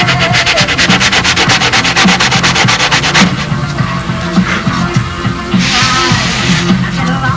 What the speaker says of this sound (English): Each time I sand it out,